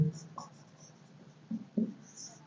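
Chalk or marker scratches out a maths solution on a classroom board in a few short, faint strokes against quiet room noise.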